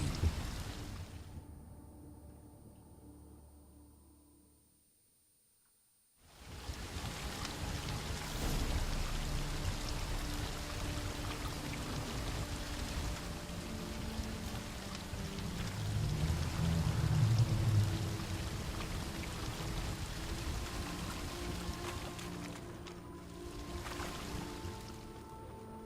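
Flowing stream water in a video game, a steady rushing and pouring wash after a few seconds of near silence, fairly quiet and unbroken, with a faint swell midway.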